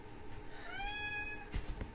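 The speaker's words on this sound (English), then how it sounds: "Sorry, it's my cat." A pet cat meows once, a single rising-and-falling call heard fairly close in a quiet room, followed by a couple of soft thumps.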